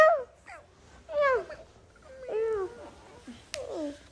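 A pet cat gives a series of several close, drawn-out meows with falling pitch at night, spaced by short pauses, with a voice speaking faintly in between.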